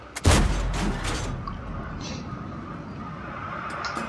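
A single heavy tank gun shot from an SU-85 tank destroyer in World of Tanks, a sharp loud boom followed by a rumbling decay and lingering battlefield noise.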